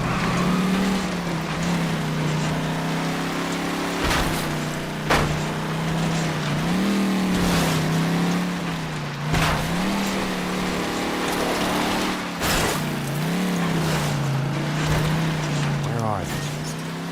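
In L.A. Noire, a car drives along with a continuous engine drone whose pitch rises and falls as it shifts. Sharp knocks recur every few seconds, and voices speak over the engine.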